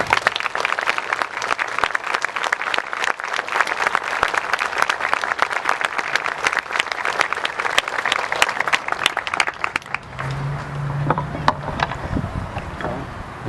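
An audience at a Memorial Day keynote address applauds loudly and continuously to welcome the speaker, the clapping thinning out near the end as a few scattered claps and faint sounds linger.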